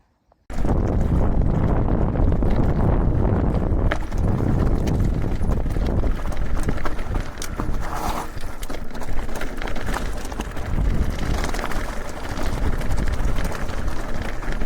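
Mountain bike rolling down the rocky descent of Doddick Ridge on Blencathra, a steady rattling clatter of tyres and frame over stony ground with gusty wind buffeting close to the microphone throughout.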